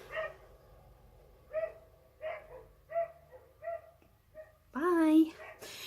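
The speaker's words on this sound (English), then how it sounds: "someone's dog's barking." A dog barks in short, evenly spaced yaps, about six of them at a moderate distance, and then lets out a longer, higher whining cry at the end, while someone talks between the barks.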